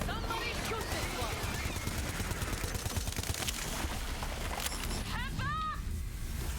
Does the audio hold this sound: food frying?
no